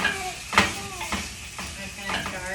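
Ground meat sizzling in a hot pan for a cauliflower shepherd's pie as a mix and chop tool stirs and breaks it up, with repeated scraping strokes over a steady frying hiss.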